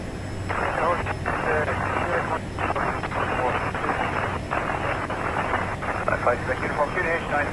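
An Aerosoft CRJ airliner in Microsoft Flight Simulator, departing Gatwick, builds a loud, steady engine roar as it accelerates, with someone talking over the constant noise.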